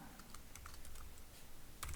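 Typing on a computer keyboard, a quiet run of irregular key clicks at close range with a slightly heavier press near the end, no talking.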